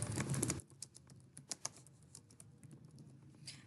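Soft, steady computer keyboard typing while writing a comment, a run of light irregular keystroke clicks heard close up after a brief louder noise at the start.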